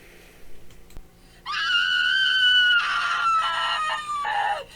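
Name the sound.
shriek of terror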